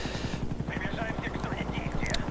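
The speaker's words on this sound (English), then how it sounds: "I'm actually going to pick a fairly good spot to call in a chopper gunner" A chopper gunner helicopter called in during a Call of Duty: Black Ops match, its rotor a steady rapid low thump under game effects, with a voice talking over it.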